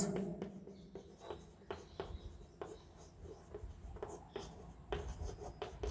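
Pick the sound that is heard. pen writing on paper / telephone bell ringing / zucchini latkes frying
pen writing on paper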